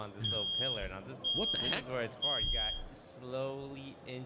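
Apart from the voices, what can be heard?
fire alarm beeping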